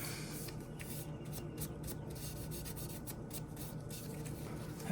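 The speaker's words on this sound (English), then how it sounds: "I'll scrape all this little rust off right here." Steady, quiet scraping of light rust off the blade of an old Case XX pocket knife, a continuous dry rasping texture heard up close with no talk.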